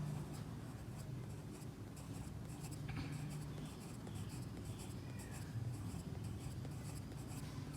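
Steady scratching of a pen or pencil on paper while drawing small circular and spindle-shaped cells, continuous soft strokes with a low background hum and no talk.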